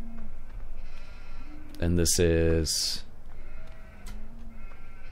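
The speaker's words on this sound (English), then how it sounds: "I guess that's the lamb fattening and regular lambs" Sheep and lambs in Farming Simulator 2015 let out a loud, close bleat mid-clip, with fainter bleats around it, while someone talks over the scene.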